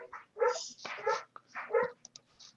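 A dog barks excitedly nearby, a run of loud, high, yipping barks and whines in quick bursts with short pauses.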